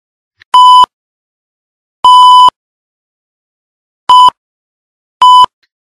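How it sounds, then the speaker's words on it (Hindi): A security camera beeps at night, four separate loud electronic tones with long, uneven gaps between them, each a steady pitched beep standing alone in silence. "अचानक कैमरे की बीप ने मेरी नींद तोड़ दी"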